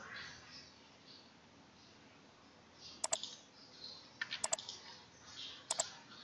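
A computer mouse and keyboard make faint, quick clicks while drafting in ZWCAD, with soft double clicks and short bursts of key presses at a few scattered moments over quiet room noise.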